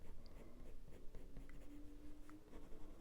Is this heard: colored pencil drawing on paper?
yes